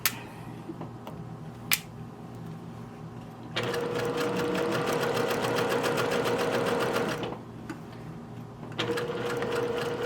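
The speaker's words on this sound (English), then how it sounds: "I'm going to keep stitching after I go off the fabric" A sewing machine stitches shirt fabric in two long runs of rapid, even mechanical chatter, close and fairly loud, separated by quieter pauses with a couple of sharp clicks.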